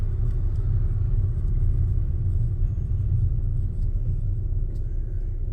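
Steady low engine rumble inside a learner driver's car as it moves off on a commute to work, droning continuously and evenly at close range with no talking.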